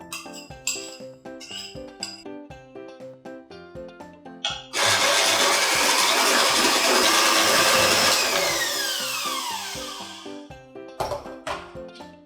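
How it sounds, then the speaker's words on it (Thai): An electric mixer beats butter with flour and baking soda for chocolate cupcakes: clinks and short bursts at first, then a loud steady whir for several seconds that winds down into further clinks against the bowl. "เดี๋ยวเราจะตีเนยกับแป้งแล้วก็เบกกิ้งโซดาก่อน"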